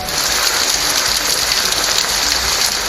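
Heavy rain pours down steadily in Chennai, a dense, even hiss of drops with no breaks across the whole stretch, loud and close.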